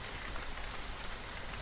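Steady drizzle falling on a mountainside, a dense, even hiss of raindrops on wet surfaces, continuous and moderately close with no voices.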